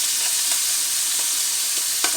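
Thai curry paste sizzling in a hot pan, a loud steady hiss of frying with a few soft stirring scrapes, no voices.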